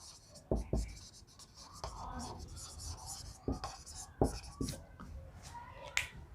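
Chalk or marker scratches and taps on a board during a vectors cross-product lesson, arriving in short irregular strokes with sharp clicks, fairly quiet, with no talking.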